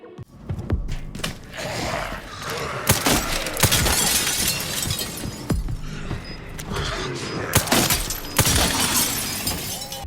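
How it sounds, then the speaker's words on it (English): Glass shattering and splintering in Resident Evil Requiem, with repeated loud crashes and breaks in a dense run of debris and impacts, alone without talk. "Realistic glass breakage."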